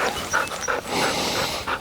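A gun dog in training panting rapidly at close range, short breathy huffs in quick rhythm, with no voices during the panting.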